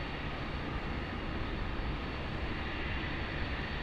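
A BAe 146 airliner goes around at Sydney Airport at night with a steady, loud, unbroken jet roar that stays even throughout.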